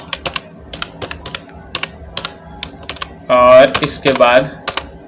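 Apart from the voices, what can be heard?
typing on a computer keyboard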